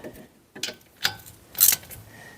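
Ratchet clicks in short bursts as a drain bolt is tightened on a 1999 Honda Recon ATV during an oil change, close and fairly loud with pauses between strokes.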